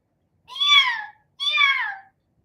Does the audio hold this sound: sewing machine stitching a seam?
no